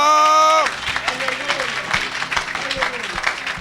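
Congregation at a church service breaking into applause after a sustained tone ends, with claps and cheering voices filling the room in a steady, lively wash.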